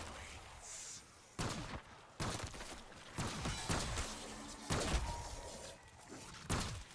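Gunfire in Black Ops 6 Zombies: sharp bursts of shots repeat every second or so, loud and close, over steady game background noise, with no talking during the shots.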